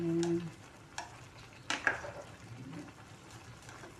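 Mixed vegetables stirred in a frying pan, with a steady sizzle and a few scraping clinks of the utensil against the pan, close up and without talk.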